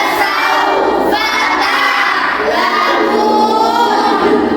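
Loud, continuous shouting and chanting from a group of children at a Quran recitation session, a dense crowd of voices with no pauses.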